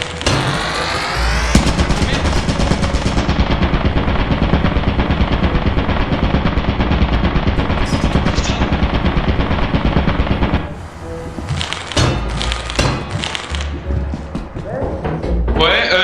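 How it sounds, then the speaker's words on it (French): Automatic turret in the video game Lethal Company firing a long, loud, rapid continuous burst of gunfire for about ten seconds, followed by scattered thuds and softer impacts. "Ah, mais il y a une tourelle."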